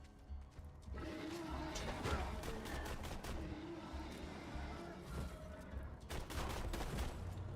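Video game gunfire crackles in rapid bursts and scattered shots, rising and falling over several seconds at moderate volume, with a faint voice briefly underneath.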